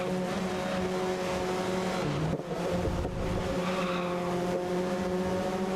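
A race car in the video game GRID laps a track with fast corners, its engine a steady, loud, droning whine that dips briefly as it shifts or brakes, then climbs again.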